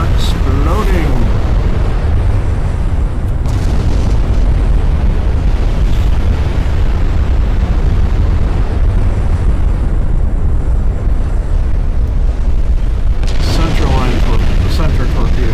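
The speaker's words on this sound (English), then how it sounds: "Turrets are exploding!" Ship turrets blowing up in a naval battle in the video game Ultimate Admiral Dreadnoughts: a dense, continuous roar of booming explosions and gunfire, loud and sustained, with a voice talking over it.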